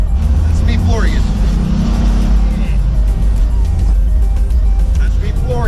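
An electric project car accelerates at full throttle, a loud, sustained rush of road and motor noise heard from inside, with voices talking over it.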